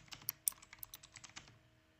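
Quick bursts of typing on a computer keyboard, a rapid run of crisp key clicks that trails off after about a second and a half, close and alone.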